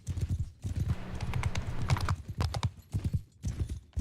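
Rapid, continuous clip-clop of galloping horse hooves in a Mount & Blade II: Bannerlord multiplayer skirmish battle, loud and close with a few brief gaps in the rhythm.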